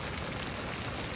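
Steady rain falls on a Houston, Texas afternoon, a dense, even hiss of drops striking surfaces with no breaks and no voices.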